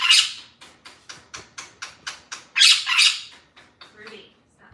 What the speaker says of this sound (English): There goes the bird.